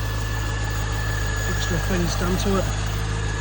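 A 1999 C5 Corvette's stock, unmodified 5.7-litre LS1 V8 idles with a steady low rumble and even hum close by, while someone talks over it.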